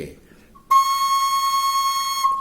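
A single steady breathy bamboo flute note in the key of C sounds clearly for about two seconds, close and sustained after a brief pause.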